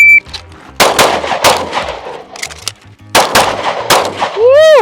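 A shooter fires rapid bursts at a shooting competition, loud close shots in quick groups separated by brief pauses, with metallic ringing from steel targets at the end.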